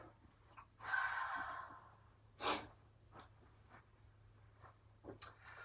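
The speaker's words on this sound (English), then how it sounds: "Take 2 more deep cleansing breaths." Slow, deep cleansing breaths during a yoga session: a long audible exhale, then a shorter sharp breath and softer breathing sounds, close and quiet over a faint steady hum.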